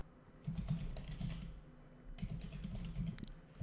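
Steady clatter of fingers typing on a computer keyboard, close and fairly quiet, with irregular bursts of keystrokes and no voices.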